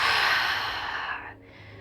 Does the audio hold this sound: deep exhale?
yes